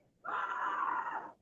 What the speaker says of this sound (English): That's the junkie neighbours going off if you heard a scream